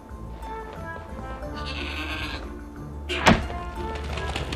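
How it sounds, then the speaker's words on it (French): A goat in Trine 4 bleats against a low game backdrop, followed by a sharp thunk nearby. "Quelle chèvre!"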